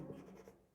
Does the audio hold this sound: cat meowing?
no